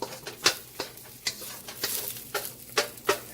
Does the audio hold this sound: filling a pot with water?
no